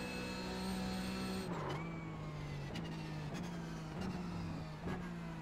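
A Porsche 911 GT3 in iRacing at COTA revs hard, its engine note rising and dropping through several quick upshifts, steady and close, with no talk.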